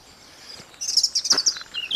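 Garden birds trill and chirp in quick bright bursts, close and clear, with one song phrase rising after a quiet start and a second call at the end.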